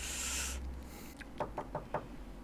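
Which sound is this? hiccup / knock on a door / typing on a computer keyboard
knock on a door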